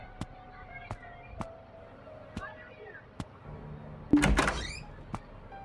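In the horror game Endless Nightmare, a door closes with a sudden rushing thud after a series of soft ticking footsteps, fairly faint overall, while someone talks in the background.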